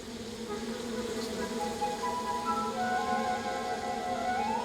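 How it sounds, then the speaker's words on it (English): Honeybees buzz in a steady, continuous drone, several wings humming together close by with slowly shifting pitch and no voices. "One of the animal kingdom's most social and communicative insects is the honeybee."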